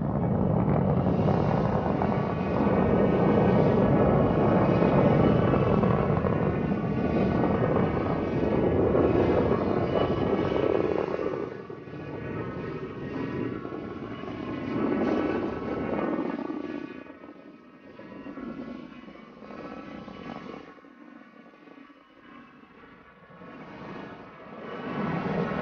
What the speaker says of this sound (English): there's this sort of wall of deep rumbling bass, and you get the sense, wow, now we're really on our way